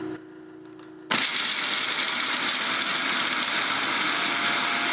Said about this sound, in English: my food processor and process it for about a minute until it turns to macadamia butter